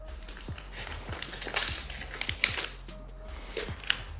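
Cardboard and plastic rustling as a OnePlus 9 Pro phone box is unsealed and opened, with crinkling wrap, soft scrapes and small taps spread across a few close, quiet seconds and no talking.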